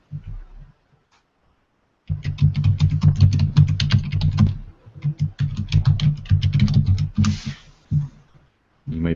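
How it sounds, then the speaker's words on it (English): Rapid computer keyboard typing, bursts of close, crisp key clicks in quick rhythm with short pauses between phrases, loud and alone. "if you type in Lawn Care Service Woodinville, it should be on the front of that page for a search phrase"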